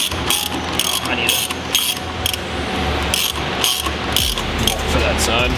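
A 1/2 inch ratchet clicks in rapid bursts during work on a Honda Civic's H22 engine, busy mechanical ratcheting with pauses between strokes in a noisy garage, close and loud.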